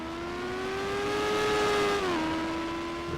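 An IndyCar engine in the NR2003 racing game at the Oregon road course screams closer with a rising, steady high-pitched whine, then drops in pitch as it shifts or passes, alone and fairly loud.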